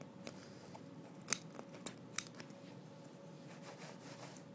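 Scissors snip through burnt carpet fibres in a hookah coal burn, giving a few faint, close, crisp cuts spaced irregularly over low background noise.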